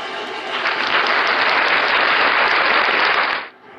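A burst of dense, rapid clapping rises quickly, holds for about three seconds like a round of applause, then cuts off abruptly, loud and close with no talking over it.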